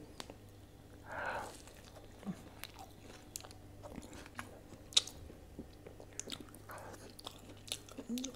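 Quiet, intermittent chewing and biting on aloo paratha and paneer, soft moist mouth sounds with a few sharper clicks spread sparsely across the stretch, close to the microphone and without speech.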